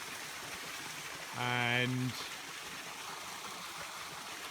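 A small waterfall running in a river, flow weaker than before, gives a steady, soft rush throughout, with a brief spoken word over it.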